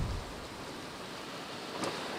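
Heavy rain from a storm in South Memphis, a steady, even hiss of downpour filling the whole moment, fairly faint and distant, with a brief brighter splash near the end and no voices.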